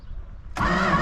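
A 1968 Plymouth Road Runner, parked for 38 years, catches and fires abruptly after a quiet moment of cranking, jumping into a loud, steady, rough engine roar close by.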